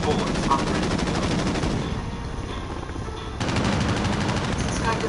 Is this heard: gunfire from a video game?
yes